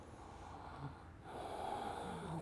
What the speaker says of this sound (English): 1, deep breathing.